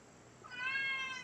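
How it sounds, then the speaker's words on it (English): A cat gives a single drawn-out meow, fairly faint and somewhat distant, rising over quiet background hiss. "Oh, that cat."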